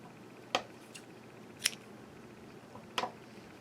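Scissors snipping orange yarn during crochet work, three short sharp cuts spaced about a second apart, close and quiet with no talking.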